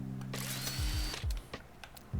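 Mining drill in a video game, whirring in short mechanical bursts with clicking, ratcheting bits and low thumps, close and loud with no talk.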